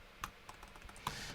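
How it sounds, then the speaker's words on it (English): Fingers typing a command on a computer keyboard, sounding as a quick run of soft, close key clicks with a couple of sharper taps, faint and with no voices. "So we're going to just run the command by typing"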